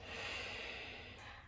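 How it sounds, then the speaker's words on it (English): A single deep, slow breath drawn during a yoga cool-down, a soft steady airy rush lasting the whole moment, close and unaccompanied by speech. "Take a 360 breath"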